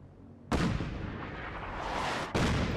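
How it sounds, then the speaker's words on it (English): Artillery strikes land in Fallout 4's wasteland: two sudden, heavy booms with a long rumbling roar sustained between them, loud and close, with no voices. "That's because I have a lot of artillery set up around the wasteland."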